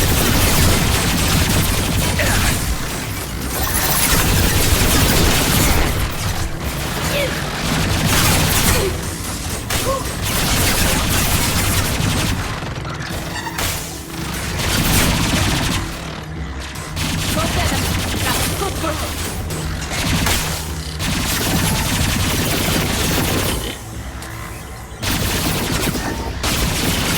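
Sustained gunfire in the game Mass Effect 2 rattles continuously, with rapid automatic bursts, heavy impacts and mechanical clatter filling a dense, loud battle scene, broken by brief lulls.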